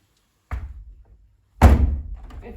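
A European tilt-and-turn window shuts with a soft thunk, followed a second later by a louder, fuller thud as the sash is pressed closed, both close and alone with no talk.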